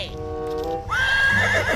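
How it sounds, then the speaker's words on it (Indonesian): Zebra call, a loud near whinnying cry: a tonal bray that breaks into a higher rising squeal, with a low grunting pulse beneath toward the end. "Kalau yang ini kuda zebra."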